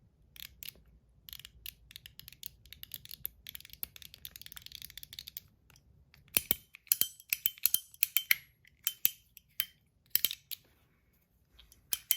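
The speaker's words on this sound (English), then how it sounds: "clickers over here on top. Super satisfying to click." A fidget toy's clicker pressed over and over, giving sharp, crisp clicks in irregular bursts that are close and fairly loud, with no voices.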